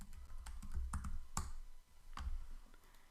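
Keystrokes on a computer keyboard while entering text for a Halloween tumbler design, a run of sharp clicks with irregular spacing over a steady low background hum, close and moderately loud.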